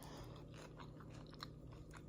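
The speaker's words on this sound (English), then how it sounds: "Hear that crunch?" Someone chews a crispy-topped vegan broccoli casserole close to the mic, softly and quietly. A few faint crunchy bites stand out over a low background hum.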